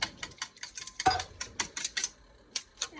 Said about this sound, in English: we're going to stir that in with these eggs right now